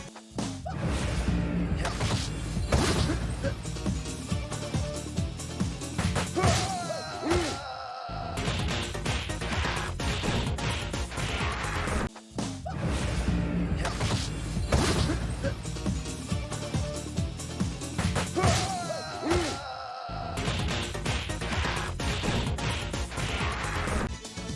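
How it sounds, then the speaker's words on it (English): Punch impacts from Streets of Rage 4 and Streets of Rage Remake beat-'em-up brawling, dense bursts of whacks, thuds and whooshes with grunts, repeating twice in a loud continuous sequence over game music. "I can definitely hear a difference in the intensity of the punches"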